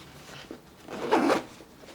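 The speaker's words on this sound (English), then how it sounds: "you can open it from one side all the way, go back to the other side with the dual zipper" Dual zipper on a Bellroy Venture Sling 6L bag pulled open, a soft close scratchy zip rising to a brief louder run with no voices.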